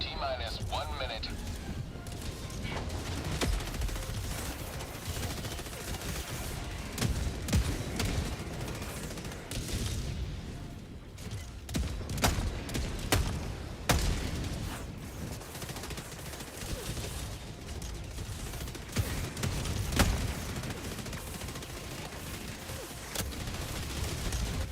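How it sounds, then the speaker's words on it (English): Sustained gunfire from an LMG aimed at a heavy enemy during a Helldive difficulty 9 mission in Helldivers 2, dense and continuous with booms and crashes mixed in, plus voices talking over the battle. "Keep shooting the heavy with your LMG"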